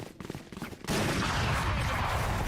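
An Odin machine gun in the game Valorant opens up in a sustained, dense burst of rapid fire, loud and continuous after a brief stretch of lighter in-game noise.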